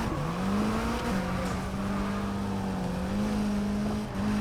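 Car driving in Need for Speed Heat, a loud steady engine drone holding near one pitch with slight rises and dips, like cruising under constant throttle, with no talk over it.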